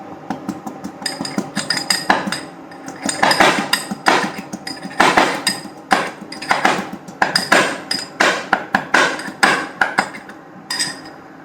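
Fresh ginger pounded in a mortar at home for cooking, struck again and again in an uneven rhythm of sharp, loud, ringing knocks, close up and with no talking.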